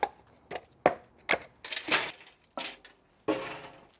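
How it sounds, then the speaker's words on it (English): Fresh firewood logs moved and stacked in a backyard, a string of sharp woody knocks and clunks, about eight separate impacts at uneven intervals, close and fairly loud. "So moving all these logs takes a while."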